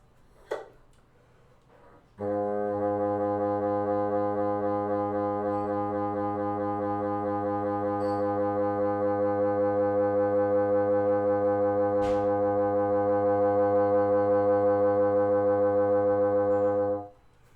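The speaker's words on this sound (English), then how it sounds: "So the multiphonic I'm showing today is low C minus F key." A sustained multiphonic chord on a low C fingering with the F key lifted holds steady for about fifteen seconds, several tones sounding at once with slight beating, after a brief click at the start.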